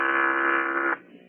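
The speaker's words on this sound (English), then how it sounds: "Give me the intercom phone" Spaceship intercom phone in a radio drama, a steady electronic buzz held for about a second before cutting off abruptly, loud and alone.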